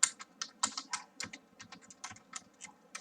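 Rapid, uneven keystrokes clatter on a computer keyboard while someone types C++ code, the clicks close and fairly quiet, alone with no talk.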